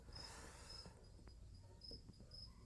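Crickets chirp faintly in a damp barn, thin steady pulses repeating at a distance over a low, quiet background hiss.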